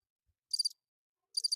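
Two short bursts of cricket chirping, each a quick trill of a few pulses, separated by silence and heard clearly on their own.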